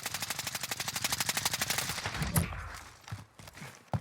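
Rapid automatic gunfire in Call of Duty Warzone, a fast steady burst of about twenty shots over two seconds, then a few scattered distant shots and footsteps.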